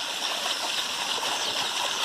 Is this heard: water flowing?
yes